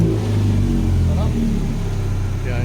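A car engine idles steadily after an idle adjustment, a constant low hum running throughout with a voice talking over it.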